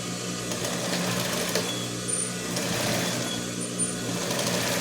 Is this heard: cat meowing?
no